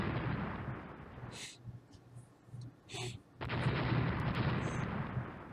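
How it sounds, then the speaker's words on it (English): Naval gunfire from the warship game Rule the Waves, a few distant booming shots and muffled blasts over a steady low rumbling background, with a sudden louder wash of noise near the end. "they're just shooting it up now"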